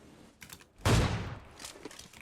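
Gunfire rings out in PUBG Mobile: one sharp, loud shot with a long trailing echo, then fainter scattered pops before and after it.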